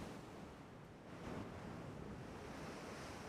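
Loud, steady ocean waves and surf in the naval video game Ultimate Admiral Dreadnoughts, a continuous rushing wash with wind noise filling the whole stretch, no other clear sounds over it.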